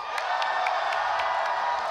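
A large crowd at a Fortnite TwitchCon grand finals cheers loudly and steadily, roaring and whooping as a packed arena holds the noise throughout.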